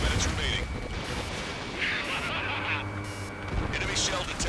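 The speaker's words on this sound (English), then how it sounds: "Projectile exploded in the distance." Missile launch and distant projectile explosion in the jet combat game Ace Combat 7, Anchorhead Raid mission: a dense, sustained roar of blasts and rumbling bursts fills the whole stretch at steady loudness, with faint radio voices mixed underneath.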